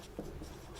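Pen or marker strokes on paper during a Class 10 maths lesson on heights and distances, a short faint scratch of writing with no talk.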